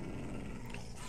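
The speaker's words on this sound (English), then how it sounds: "oh, those dogs, that is loud" Dogs let out a loud, rough, continuous growling bark that lasts about a second, close by, with no voices over it.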